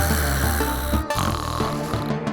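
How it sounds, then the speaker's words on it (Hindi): A woman sleeps and snores loudly and close by, with deep, rattling, continuous snores that fill the whole moment. "ओह, यहाँ खर्राटे मारकर बड़े मजे से सो रही है।"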